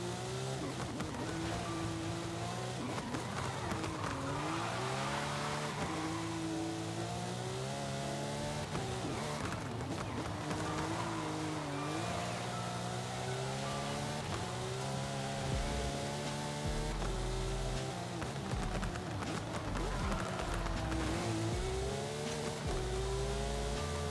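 Car in a Forza Horizon 5 drift zone in the middle of a race, engine droning steadily with rising and falling revs and tire noise, loud and continuous throughout with no talking.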